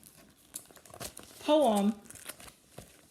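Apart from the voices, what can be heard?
handling an old paper copy of a poem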